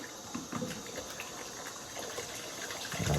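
Hot water runs from a tap while soap is rinsed off hands, a steady close gush with faint splashing that swells slightly at the end, no talking.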